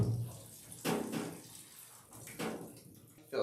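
Running water rinses a dog during professional grooming, with a steady hiss of spray and splashing that swells in several bursts, and a person speaks faintly between them.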